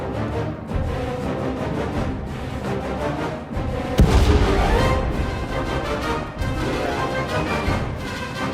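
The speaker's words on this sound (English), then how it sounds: "Prepare to fire weapon on my command." Weapon fire in the space-combat game SWTOR: Knights of the Eternal Throne: loud, dense booming blasts with a sharp heavy impact partway through, layered over continuous rumbling battle noise and music, with no pauses.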